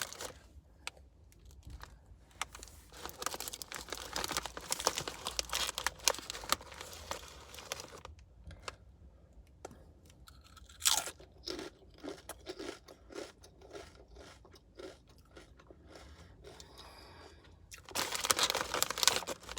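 Loud, close crunching of white cheddar kettle-style Popcorners chips in irregular bursts, with crinkling and brief pauses between bites, almost no talking.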